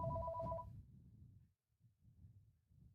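A telephone rings with a short electronic two-tone burst that fades out within the first second. Low muffled rumbling follows.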